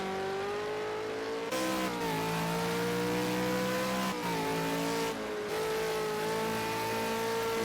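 A V8 Supercar racing engine in Project Cars 2 screams steadily through high revs at Road America, pitch climbing and dropping with brief dips at gear changes, loud and close with no talk.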